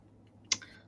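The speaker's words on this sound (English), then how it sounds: "I was just typing it" A single sharp click of a key on a keyboard, one short isolated tap against a quiet room background.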